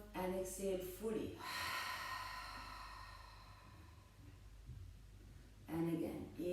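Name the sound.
deep exhale through the open mouth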